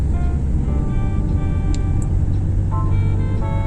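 A car drives along the Kehancha route road in Migori, with a steady low engine and road rumble running throughout, faint tonal hums above and a few brief higher clicks.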